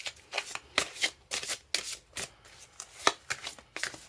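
Tarot cards being shuffled and drawn, a run of crisp riffling flutters and sharp slaps in uneven bursts, close and fairly quiet with no voices.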